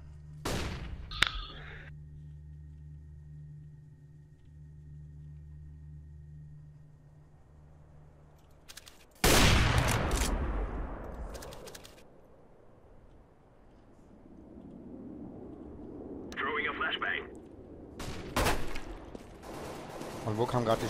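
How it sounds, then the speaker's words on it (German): Sharp bursts of gunfire in CS:GO on the Nuke map crack out between long stretches of low droning hum, with rumbling noise and a few later shots. "Und wo kamen gerade die Schüsse?"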